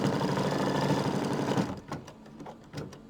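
An embroidery machine hums in a steady fast rapid-fire stitching run for a placement line, loud and close, then stops after about a second and a half, leaving a few soft mechanical clicks and taps.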